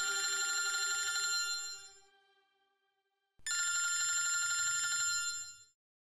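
A mobile phone ringtone rings loudly in two bursts of bright, steady electronic tones, with a short pause between them and no talking.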